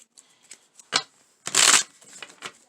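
A deck of tarot cards is shuffled close by in a few quick riffles and taps, with one louder, longer rustling burst in the middle and no voices.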